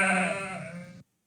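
A single sheep bleat from the strategy video game Lords of the Realm, loud and close, one drawn-out wavering call of about a second that stops abruptly into silence.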